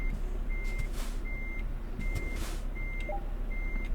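A truck in Euro Truck Simulator 2 backs up to its trailer, its reversing alarm giving six evenly spaced beeps over a steady engine rumble, with a few soft knocks and clunks mixed in and no speech.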